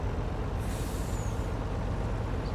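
A Volvo truck's air brake releases a sharp hiss as it parks in Farming Simulator 19, standing out over a low steady engine idle.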